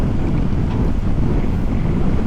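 A strong headwind buffets the microphone on a seaside loop road in Manado, producing a loud, constant low rumble with gusty roar and no voices.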